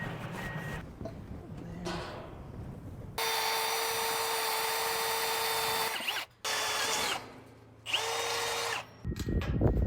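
A power saw cuts two 2x4 boards at a 45.5-degree angle on an off-grid homestead in the woods, sounding as three loud sustained whining passes separated by short pauses, close by with workshop noise between.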